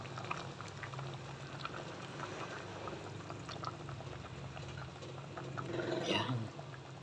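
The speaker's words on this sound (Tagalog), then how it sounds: "paluto na yung kangkong natin" Kangkong (water spinach) boiling in a pot makes a continuous close bubbling and simmering, rising to a brief louder gurgle near the end.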